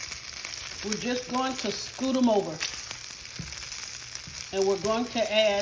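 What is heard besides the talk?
sausages sizzling while browning in a skillet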